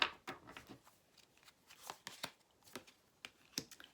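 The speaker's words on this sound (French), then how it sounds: "Alors, on va prendre une carte du tarot." Tarot cards being shuffled by hand, a quick series of crisp riffling snaps and soft card slaps, close and fairly quiet, no one talking.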